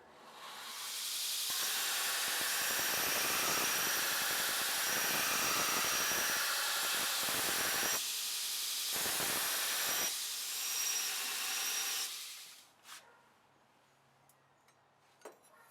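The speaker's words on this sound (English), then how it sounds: "I'm turning my salt pots on so that can get up to temperature so it's ready to go after I'm done" Salt pots for heat-treating a forged integral camp knife are switched on, sending out a loud, steady burner roar and hiss that runs unbroken for about twelve seconds, then cuts off, leaving faint clicks and a low hum.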